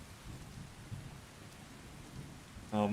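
Thunder rumbles low and steady through a Skyrim storm with rain, and a sharp brighter burst near the end marks a lightning strike close by.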